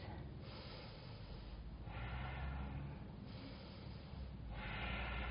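Steady deep breathing during a yoga forearm plank in an upper-body flow class, slow rhythmic inhales and exhales in broad noisy swells, close and fairly loud with no talking.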